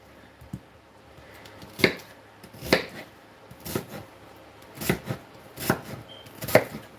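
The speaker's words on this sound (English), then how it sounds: "Dicing up the onion." A knife dices an onion on a cutting board, giving a series of crisp, fairly loud chops in an uneven rhythm, about nine strikes spread over several seconds, with no talking.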